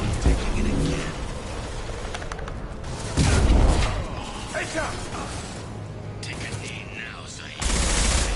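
A blast from the Mass Effect Legendary Edition game bursts out over a dense bed of mechanical clatter and rattling gunfire, with sharp surges of noise midway and near the end.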